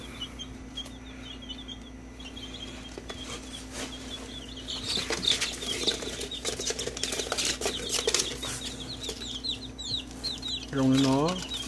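Two-week-old chicks in a coop, cheeping and clucking at a steady chatter, with bursts of wing flapping in the middle and a louder nearby call near the end, against a constant low hum.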